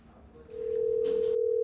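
A phone line tone sounds as Uttarakhand's chief minister calls a citizen. A faint lead-in gives way to a steady, loud, unbroken electronic tone that holds to the end.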